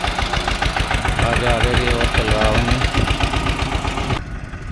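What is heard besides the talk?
tractor engine approaching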